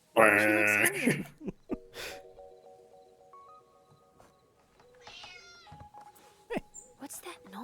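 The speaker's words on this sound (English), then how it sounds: "I think the cat you just saw and heard, probably that still." A cat lets out a loud, drawn-out meow at the start, followed by a few quieter mews and faint sounds, with voices talking and other noises around it.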